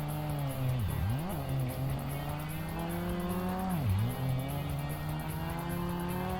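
Mercedes car engine in the racing game Tokyo Xtreme Racer Drift 2, a steady droning hum that dips twice as gears shift, then climbs back, heard alone and fairly quiet.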